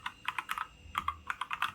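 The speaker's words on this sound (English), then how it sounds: "let's listen to the actual key sound" Rapid clacky keystrokes on a Mix Pro Geek Gamer mechanical gaming keyboard, two quick bursts of close, crisp key presses separated by a short pause, with no voices.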